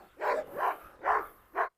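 Doberman named Dede lunging at another dog, Nora, with four loud, close barks or snarls in a short, uneven burst, each sharp and separated by brief pauses.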